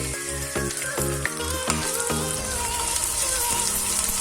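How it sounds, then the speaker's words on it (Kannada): Garlic and ginger fry in oil in a pan for a dry prawn chutney. A close, steady crackling sizzle runs through the whole clip, with no talk. "ಅದಾದಮೇಲೆ ನಾನು ಶುಂಠಿನ ಆ್ಯಡ್ ಮಾಡ್ತೀನಿ. ಅದನ್ನು ಕೂಡ ಫ್ರೈ ಮಾಡ್ಕೋಬೇಕು."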